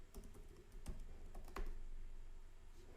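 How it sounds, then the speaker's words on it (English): Soft rapid keystrokes on a computer keyboard as a password is typed, a quiet run of irregular clicks with a few louder key presses. "Type your password."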